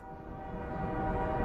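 An oil train pulling in within the Workers & Resources: Soviet Republic game, a steady low rumble of rolling rail cars with a sustained horn-like tone building slightly in loudness.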